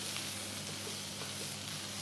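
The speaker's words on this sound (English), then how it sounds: "And now we want to stir fry this a little bit." Onions sizzle and fry in a wok over a very powerful home burner as they are stir-fried for Mongolian beef, a dense steady hiss with faint scraping and crackles, fairly quiet and without talk.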